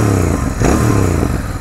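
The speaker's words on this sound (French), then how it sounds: "L'échappement va bien avec le style de la bécane, mais je la trouve un peu silencieuse" A Royal Enfield Bear 650 motorcycle idles and revs up close, its engine and exhaust giving a steady, loud throb with a brief clattering rise partway through.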